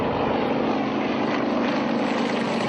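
A propeller aircraft performing at an aerobatic air show in Tatarstan, heard as a steady, loud engine drone held without pause, with no voices.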